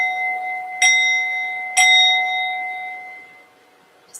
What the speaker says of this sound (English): I'm going to ring the bell, and as I ring the bell, I invite you to open your eyes slowly and gently.